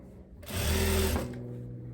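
A twin-needle sewing machine runs a short steady burst of stitching along a viscose dress seam, close and loud, starting and stopping within about a second with no voices.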